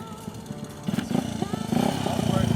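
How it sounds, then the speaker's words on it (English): An old motorcycle engine starting and running after being brought back to life, its loose popping putter growing louder and faster, heard close with people talking over it. "it's cool when you pick up an old bike and then you see it run for the first time"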